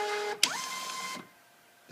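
A Hecon C-56 kiosk printer grabbing and feeding paper: a brief motor whir with a rising tone, a click, a quiet pause, then another sharp click.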